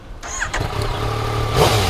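A 2015 Yamaha FZ-09 motorcycle in gray and blue cranks and fires up, settling into a loud, close, rumbling idle that swells slightly near the end.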